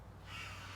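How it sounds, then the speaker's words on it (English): A single faint crow caw sounds outdoors in a natural setting, brief and somewhat distant over a low steady background hum. "We're hanging out with the birds."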